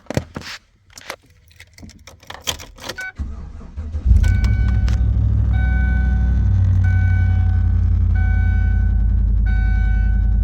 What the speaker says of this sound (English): I need to turn my truck on